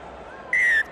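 A referee's whistle at a rugby sevens match, one short sharp blast lasting about a quarter second over faint background crowd ambience.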